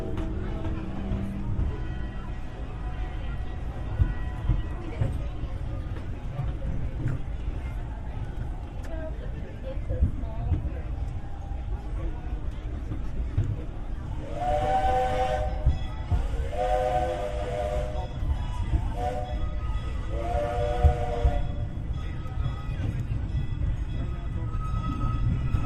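Disneyland Railroad steam train rolling along under steady low rumble, with several bursts of its steam whistle sounding around the middle of the run; a voice talks over the train noise.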